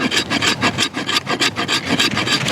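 Spine of an EJ Snyder Mountain Predator Bowie knife scraping, a fast run of rough rasping strokes in a steady back-and-forth rhythm, close and loud.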